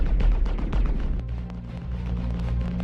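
Rapid energy weapon fire from enemy ships' laser repeaters in a space combat video game, a dense, continuous barrage of sharp zapping shots and booms with a heavy low rumble throughout.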